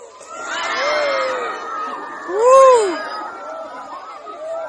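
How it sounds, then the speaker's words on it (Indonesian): Crowd of residents on a wooden pier at Bulusan beach, Banyuwangi, East Java, shouting and screaming excitedly near a stranded 30-ton sperm whale, the voices swelling into a loud cry midway. "Warga yang berada di lokasi pun teriak histeris"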